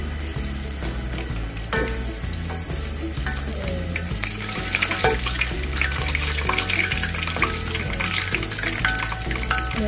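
Catfish fries in hot oil with a dense, steady sizzle and crackle, close and loud for the whole stretch, with light scraping and a low rhythmic thumping underneath and no talk.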